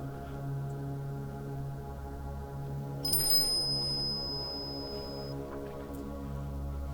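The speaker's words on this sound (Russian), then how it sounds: "Колокольчик задел." A small bell in a forest at night is brushed once, giving a single thin, ringing chime that hangs for about two seconds over a steady low hum and quiet background.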